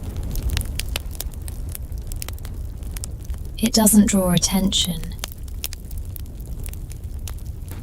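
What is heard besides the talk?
soft crackle of a fire in a cabin hearth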